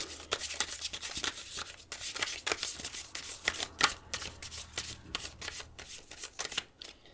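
A tarot deck is shuffled close up in quick, rhythmic bursts of riffling and snapping card edges that repeat steadily over several seconds, fairly quiet with no talking.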